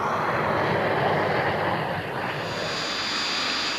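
Steady, loud propeller aircraft engine drone from a test-pilot plane climbing after takeoff toward 16,000 feet, a dense continuous roar filling the whole span without a break.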